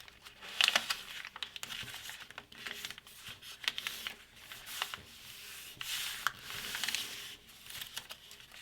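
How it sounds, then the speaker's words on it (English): Origami paper being folded into a sea turtle, with continuous close crinkling, rubbing and creasing as edges are pressed flat, including several sharper crackles. "take this edge and fold it to this top edge"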